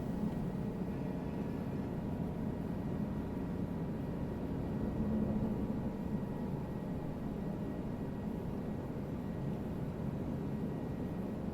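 A Guimbal G2 helicopter lifts off in Microsoft Flight Simulator 2020, a steady, dense rotor-and-turbine roar that holds even and unbroken throughout, with no talk over it.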